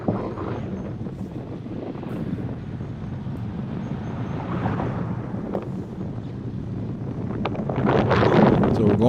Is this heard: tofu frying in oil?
no